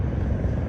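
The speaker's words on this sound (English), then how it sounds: "I can't even see if I'm filming the helicopter." Helicopter passing over the Las Vegas Strip, a steady low rotor and engine drone that holds loud and continuous throughout, with no voices.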